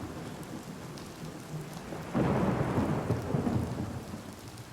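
Thunderstorm rolling in over a street in the video game Oblivion: steady rain hiss, then a loud, close thunder rumble breaks in halfway and rolls on under the downpour, with no voices.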